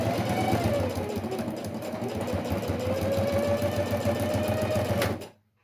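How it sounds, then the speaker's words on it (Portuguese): A sewing machine stitches a reinforcement seam on a fabric pencil case, a close, continuous whirring hum with a rapid needle chatter that runs for about five seconds before cutting off. "Agora eu tenho que fazer uma costurinha de reforço aqui, para que não desmanche."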